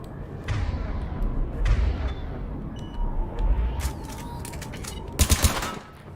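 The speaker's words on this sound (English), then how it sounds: "Okay, so it's burst fire." Vindicator assault rifle firing a quick burst in Mass Effect 3, a tight triple crack of shots near the end following muffled game ambience and scattered clanks.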